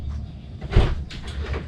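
An RV pantry door with a travel latch clicks and swings open, making a short muffled knock followed by light rattling in a small trailer interior.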